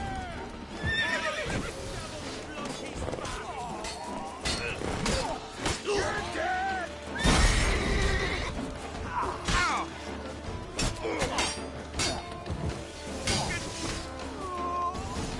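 A horse in The Witcher 3: Wild Hunt whinnies while its hooves clip-clop steadily during a ride, a loud neigh standing out midway, with game music and talk running underneath.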